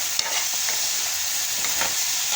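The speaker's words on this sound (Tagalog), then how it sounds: "Ito ako nagluluto." Chicken tinola cooking in a pan with steady stirring and a soft, continuous sizzle, scraping strokes recurring throughout at close range, no voices.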